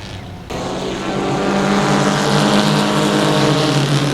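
Race cars at a motorsports park powering out of the fourth corner, engine roar rising from a quieter start into a loud, sustained blare as the pack accelerates toward the listener, with no talking.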